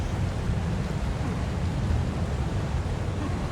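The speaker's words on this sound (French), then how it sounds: "Ah, un tremblement de terre." Deep, continuous earthquake rumble from the video game Ark: Aberration, a steady low roar with noisy hiss on top that holds at an even, fairly loud level throughout with no pauses.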